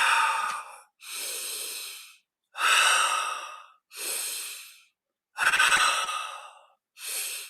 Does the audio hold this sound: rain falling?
no